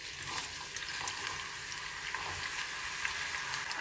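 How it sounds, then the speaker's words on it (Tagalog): Carrots sizzle and crackle steadily in hot cooking oil in a pan, a loud, continuous fry with bright popping and spitting throughout and no voices. "dito magpainit tayo ng mantika para prituhin natin ang ating mga"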